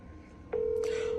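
A phone call being placed: a few faint keypad beeps, then a steady electronic tone holds from the handset, close and clear, with no one speaking over it.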